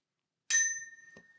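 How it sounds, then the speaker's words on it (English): A single bell strike rings out once, bright and clear, then decays into a long shimmering tone with a faint small tap near the end, alone in silence. "Maybe I should ring the bell for that eye"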